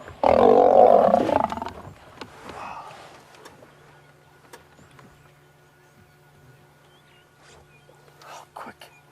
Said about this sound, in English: Did you hear the sound of that lion?